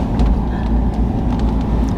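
Car interior while driving to Caravaggio church, a low steady rumble of road and engine noise, continuous and fairly loud.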